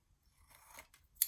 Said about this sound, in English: cutting off the corners